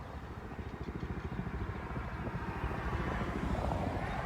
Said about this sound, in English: Now you have military choppers coming in